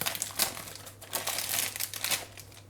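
A plastic bag crinkles and rustles in close, irregular bursts as keto vegan biscotti dough is pulled out of it, with no talking.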